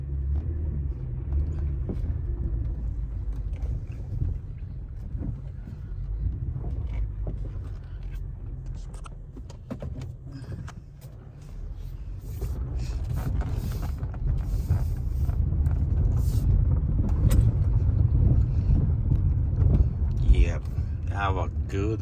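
A Chevy Malibu with a transmission fault, stuck in limp mode, drives along a road, giving a steady low engine and road rumble with some wind noise that swells toward the end, while someone talks over it.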